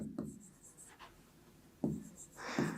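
Pen or pencil strokes across paper come in a few short, scratchy bursts, faint and close, separated by brief pauses.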